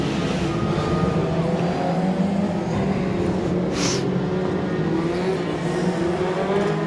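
Race cars circle Midvale Speedway during a night of racing, a continuous loud blend of engine roar and tire noise with pitch shifts as cars pass, no voices heard.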